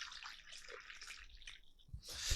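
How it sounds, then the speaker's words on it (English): Coffee is poured into a cup in a short, quiet trickle with a few soft splashes, ending in a slightly louder splash. "Let me pour my coffee."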